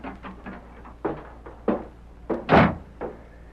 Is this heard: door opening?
yes